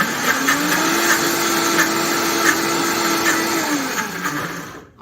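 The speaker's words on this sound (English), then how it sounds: "we are going to blend everything together" A blender runs steadily on tofu walnut loaf ingredients, a loud close motor whine holding one pitch for about four seconds, then winding down and cutting off.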